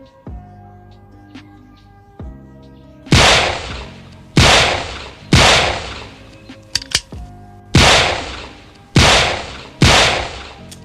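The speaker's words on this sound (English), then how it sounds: "Hope I fired 6 rounds." Smith & Wesson Model 30 revolver firing .32 S&W Long rounds: six loud, sharp reports at slightly uneven intervals, each with a short decaying tail, after a quieter stretch of handling clicks.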